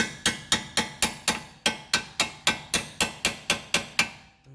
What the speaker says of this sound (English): now just tap the other end